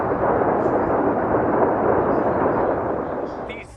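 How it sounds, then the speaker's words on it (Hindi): Dhanush and Sharang medium artillery guns firing during a military exercise, heard as a loud, sustained roaring blast that fills nearly four seconds before easing off at the very end. "धनुष और शारंग मीडियम आर्टिलरी गन्स के प्रभावशाली फायर"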